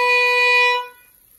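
A string quartet instrument sounds a single stopped B on the A string, one clear sustained bowed tone that holds briefly and then fades out, heard alone.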